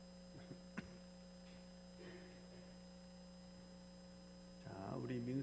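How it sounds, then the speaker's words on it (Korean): An air conditioner runs at full power in a church sanctuary, giving a steady low electrical hum with a few faint clicks, and a voice begins speaking near the end. "저 뒤편에 에어컨은 풀로 틀어져 있는 거죠?"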